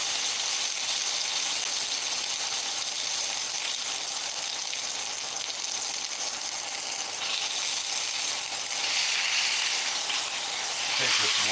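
Butter sizzles and spits steadily in a hot cast iron skillet with steak, a dense, constant frying hiss at close range that swells a little louder near the end.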